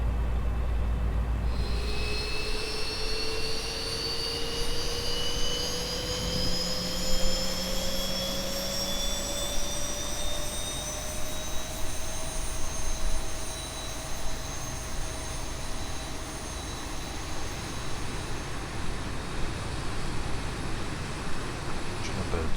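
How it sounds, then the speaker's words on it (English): Engine number 2 of a Boeing 737 starts up in the X-Plane 11 flight simulator, a steady jet roar with a whine that climbs slowly in pitch as it spools up, continuous and fairly loud throughout. "Engine number 2 has come to life now"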